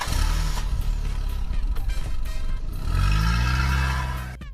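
A repaired car engine cranks and catches in the game Free Fire, with a loud, close, clattering churn that swells into a rising rev near the end before cutting off.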